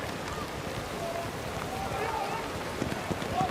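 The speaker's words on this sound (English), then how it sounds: "if it keeps raining like this" Steady rain falling on a hockey pitch, a constant soft hiss that stays even throughout at a moderate distance.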